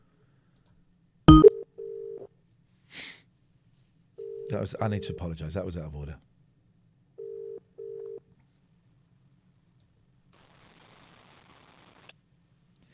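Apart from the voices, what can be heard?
telephone call being placed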